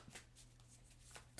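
A deck of tarot cards is riffled and shuffled in soft, rapid papery flutters, close and quiet, with a couple of distinct bursts and a sharper snap at the end.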